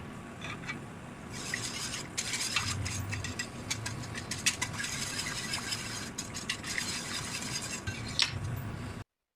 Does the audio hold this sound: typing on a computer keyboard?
no